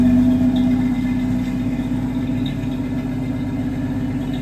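A 1965 Ford Mustang engine, around 120 horsepower, runs at a steady, even idle with a low rumbling hum and no talking over it.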